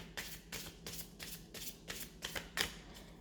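A deck of tarot cards shuffled by hand, a rapid series of soft riffling flutters repeating in a steady rhythm about every half second, close and quiet.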